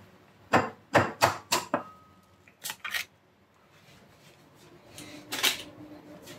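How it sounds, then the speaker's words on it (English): An egg cracked for baked Chinese BBQ pork bun dough: a quick series of sharp, close taps against a hard edge, a pause, two more knocks, then a softer crackle as the shell is pulled apart. "Next I'm gonna crack one egg."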